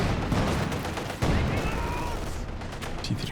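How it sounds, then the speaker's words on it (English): MG42 machine gun firing in a World War II strategy game, dense rapid bursts overlapping with other battlefield gunfire and explosions, under continuous commentary. "Coming off the MG42."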